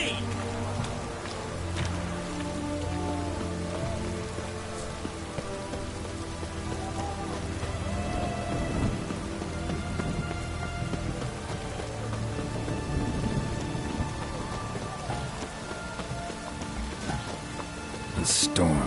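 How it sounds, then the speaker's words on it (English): Steady rain pours in a storm in the video game The Witcher 3: Wild Hunt, a dense continuous patter with little sign of thunder, heard under scattered voices. "The storm, damn it."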